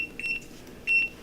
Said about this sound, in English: Set that timer so I don't forget.